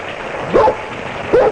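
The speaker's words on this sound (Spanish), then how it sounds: "escuchó los primeros ladridos. Vaya. El perro." A dog barks twice as a radio drama sound effect, two short, sharp yips about a second apart, close and clear against a quiet background.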